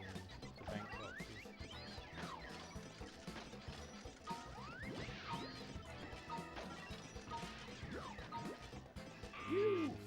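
Boxes break in the Crash Bash video game (Japanese version) with a rapid series of crunchy smashes and thwacks, repeating every second or two over busy game music and effects.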